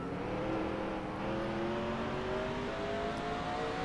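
Stock race car in NASCAR Racing 2003 at Martinsville, engine revving up steadily with pitch climbing while accelerating off a corner, loud and continuous with no talk.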